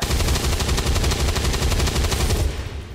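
Gunfire in XCOM 2: War of the Chosen comes as one dense, rapid automatic burst. The shots rattle evenly and loudly for about two and a half seconds, then stop abruptly.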